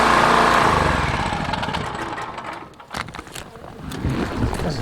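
A noisy vehicle engine runs steadily and fairly close outdoors on a warm winter day near a Newfoundland cabin, its rough broadband drone easing slightly midway, then swelling again.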